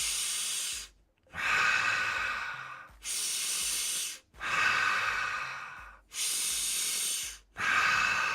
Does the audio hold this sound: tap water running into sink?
no